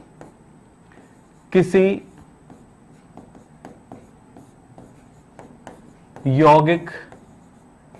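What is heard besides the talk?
writing on a board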